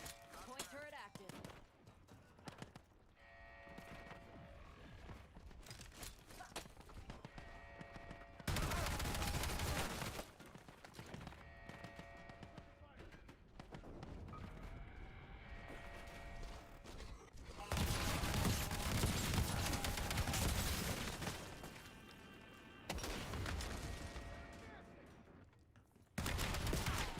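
Rapid bursts of automated turret gunfire in Black Ops 7 rattle through a noisy game mix, with loud stretches of sustained firing broken by quieter gaps and a voice talking over parts of it.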